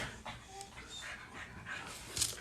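A dog panting softly in quick, short breaths, faint and fairly close, with a few brief whimpery edges.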